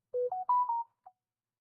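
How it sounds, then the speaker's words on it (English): A short notification chime of three or four rising electronic tones, followed by a faint final blip, clean and close against silence. "I do not like that notification sound."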